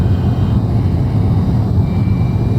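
A MILVIZ F-4J Phantom II jet roars steadily in a flight simulator game during a low pass through the Mach Loop valleys, a loud, unbroken low rumble and hiss with no voices over it.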